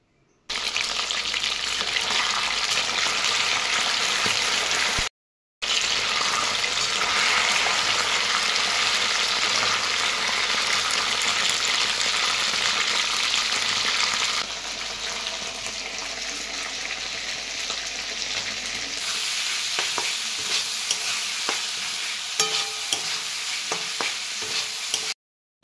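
Marinated chicken pieces for chilli chicken frying in a home kitchen, a steady loud sizzle and crackle that runs on continuously with brief stirring scrapes, dropping out once and easing slightly softer toward the end.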